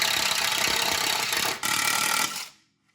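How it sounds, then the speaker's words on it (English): A power drill bores holes for a heavy-duty aluminum rear skid plate on a Kawasaki KRX, a loud continuous whirring grind with a brief dip midway before it winds down and stops. "Get those drilled out, and then we will move on to the next step."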